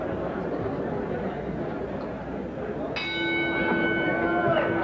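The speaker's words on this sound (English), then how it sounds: "they get ready to answer the bell for round number 9" A boxing ring bell at a heavyweight bout rings once, clear and sustained, starting round 9 over steady arena crowd noise.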